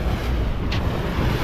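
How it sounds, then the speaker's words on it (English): Bluefin tuna leaping and crashing through the sea surface, a broad rushing wash of white water with steady wind buffeting the microphone and no voices. "there's more tuna just here jumping out, busting up all on the surface."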